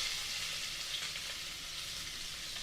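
Onions sizzle in hot oil with cinnamon in a pan while a country chicken curry is being cooked. The frying hiss is steady and soft, with faint stirring and no talk.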